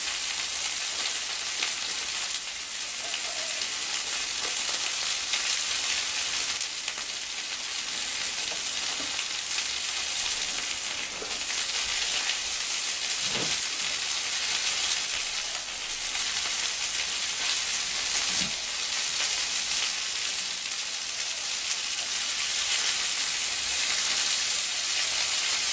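Kangaroo fillet sears in a hot pan over a flame, a steady loud sizzle and hiss running throughout with a few faint clinks, no voices.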